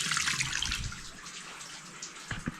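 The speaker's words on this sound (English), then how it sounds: "So we're going to open both hot and cold, because you're going to want to drain that hot water cylinder." Hot and cold taps left running to drain a domestic hot water cylinder, a steady close rush of flowing water with a few clunks and knocks near the end.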